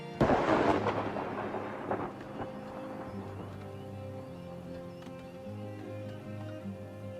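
In the city-building game Farthest Frontier, lightning strikes a basket shop, and a sharp crack opens into a loud rolling thunder rumble that fades slowly over several seconds.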